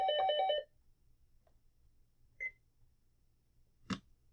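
A telephone gives a short electronic ring burst, then falls quiet apart from a couple of brief beeps and a small knock in an otherwise silent room.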